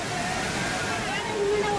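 Water crashes down steadily at the Hogenakkal falls, a loud, unbroken roar of rushing spray with faint voices blended into the noise.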